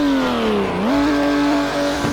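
A Volkswagen fitted with a Porsche engine in the mobile game Car Driving Indonesia revs hard: a loud, close engine tone drops briefly, then climbs and holds at a higher, buzzy pitch.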